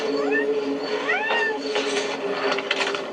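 A neighborhood cat lets out several rising, drawn-out meows in a row, close and clear over a steady background hum, with no one talking.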